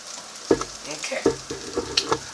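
Meat sizzles in a hot pan while it is stirred and shifted, with sharp scraping and clacking hits at irregular intervals over a steady frying hiss.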